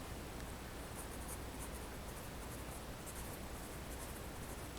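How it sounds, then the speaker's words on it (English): Pen or pencil writing out a statement on paper, a steady soft scratching that runs continuously and close throughout, with no talking. "So, let's write that statement down."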